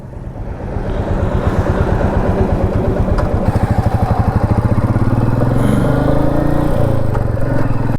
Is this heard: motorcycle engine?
yes